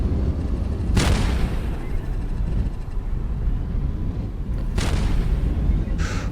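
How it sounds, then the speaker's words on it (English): Gunfire in the video game Voices of the Void, heard as two loud, sharp booming shots several seconds apart over a steady, dense rumble of game ambience. "yes, somebody's shooting at me"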